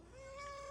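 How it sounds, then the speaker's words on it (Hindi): A pet cat in a hill village home gives a single drawn-out, rising meow, faint but close, with no talking over it. "तो ये हमने बिल्ली पाली है भाई एक"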